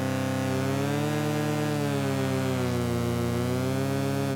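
Synthesizer notes played together and bent in unison with a MIDI pitch bend wheel, a sustained rich harmonic drone whose pitch dips and rises smoothly, steady and loud throughout with no voices.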